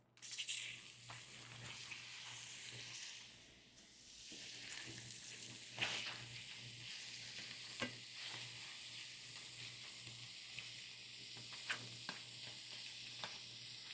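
Beef sears in a hot pan with a steady, close sizzle and frying crackle, while scattered scraping and stirring clicks come through.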